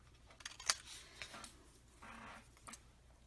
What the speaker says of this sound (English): I'm just going to cut this out of here